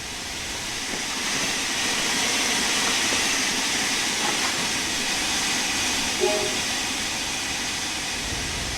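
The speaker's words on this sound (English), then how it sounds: "The locomotive is ready to go" A steady diesel rumble and broadband hiss from a locomotive idling and getting ready in Train Sim World 3, continuous and fairly loud throughout, with a brief faint tone near the end.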